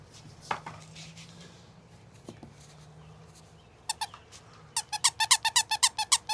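A small, overstuffed squeaky toy with a tiny squeaker gives a few faint early squeezes, then a rapid run of about a dozen sharp, bright squeaks close by, with no talking.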